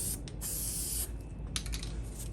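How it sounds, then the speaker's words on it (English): Spray glue hisses from an aerosol can onto model railroad layout scenery for a whitewater stream, several short bursts in quick succession, close and fairly soft. "put a little bit of spray glue in there"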